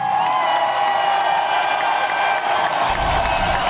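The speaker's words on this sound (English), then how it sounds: "Let's give Dave a round of applause." An audience at a live talk gives a round of applause with some cheering and whoops, a continuous loud wash of clapping throughout.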